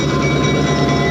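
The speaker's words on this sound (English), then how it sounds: "in the background you may hear a train arriving" A Santa Fe Southern Railroad excursion train arriving in Santa Fe, a steady low rumble and rolling drone that holds evenly throughout without any horn.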